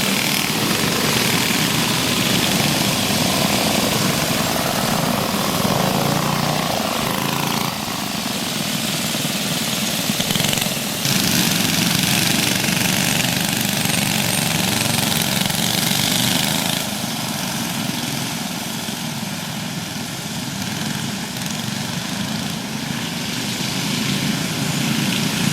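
Small backyard go-kart engines racing on a home track during a 45-lap feature, a loud, constant buzzing drone of several motors running close together for the whole stretch, with no talking.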